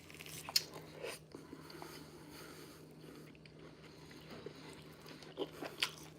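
Tough chuck steak being chewed close up, with quiet irregular bites and crunchy mastication over a low hum, a few sharper bites standing out.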